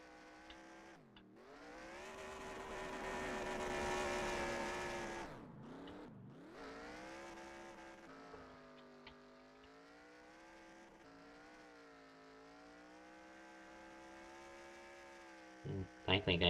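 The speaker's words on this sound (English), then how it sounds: "It's going to be about kind of a burnout here at DuQuoin." A race car engine in NASCAR Racing 2003 revs hard and sustained during a burnout at the DuQuoin dirt track, surging loud, dipping, then holding a steady drone with a sharp burst near the end.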